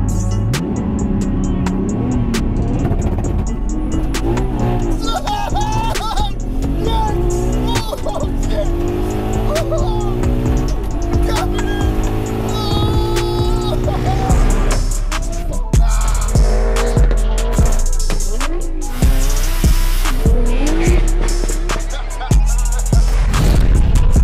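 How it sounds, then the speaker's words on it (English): An 800 bhp Nissan GTR launches on a half-mile drag strip in the UK. The engine roars loudly, with popping bangs and tire squeal as it pulls away at full throttle. "I am lining up with Josh in 800 brake horsepower GTR for the first run."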